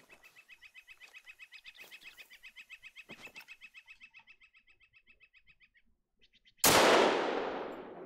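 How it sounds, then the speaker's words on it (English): Birds trill steadily in the outdoor hunting game TheHunter: Call of the Wild, then a single loud, sharp rifle shot aimed at a bear cracks near the end and rings out in a long, fading echo. "Let's shoot that bear."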